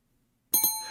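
A short, bright notification bell chime rings twice in quick succession after a moment of silence, then lingers and fades slowly.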